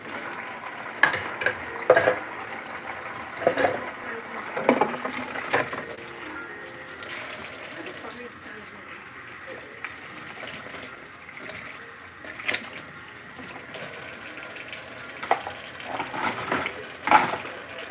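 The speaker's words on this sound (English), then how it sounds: "I'm just washing dishes right quick" Dishes being washed in a kitchen sink: running water hisses steadily while plates and utensils clink and clatter in scattered bursts, fairly close.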